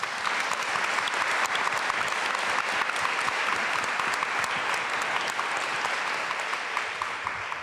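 An audience at an inclusion-in-business panel event applauds steadily and loudly for several seconds, a dense, even wash of clapping welcoming the panel moderator Carol Fulp.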